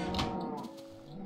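Cows in the video game Minecraft let out a short, close moo, a single low lowing call heard on its own.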